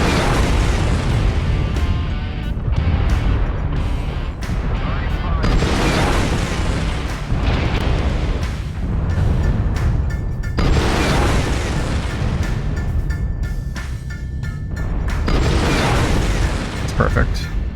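Missile volleys from a Marauder mech exploding in MechWarrior Online, repeated loud booms and bursts rolling in heavy waves over the whole stretch, with someone talking over the blasts.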